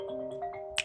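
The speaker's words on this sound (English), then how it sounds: "Can you hear the phone ringing or no?" A phone rings briefly, a steady pair of electronic tones at moderate volume, cut off after under a second.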